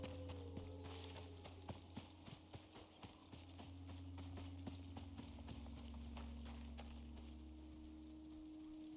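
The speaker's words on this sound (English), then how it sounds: "I can hear his footsteps over there" Creature footsteps in the survival video game Icarus, a series of soft thudding clip-clop steps over a low steady drone, faint and fairly distant with no talk.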